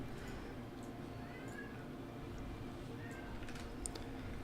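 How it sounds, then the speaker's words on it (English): A cat meows passionately somewhere in the background, faint drawn-out cries over a steady low hum and light keyboard clicks. "We have a cat meowing in the background very passionately."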